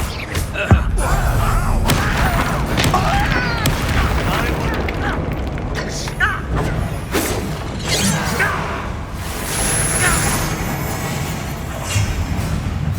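Bombarda blasting spells in Hogwarts Legacy on PS5: loud booming explosions and crashing debris thunder through a busy battle, with a voice speaking over the mayhem.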